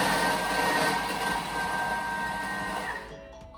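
A Thermomix TM6 blends sweet potato at speed 6, a loud steady whirring motor drone that runs nearly the whole time, then cuts off near the end, with no talk.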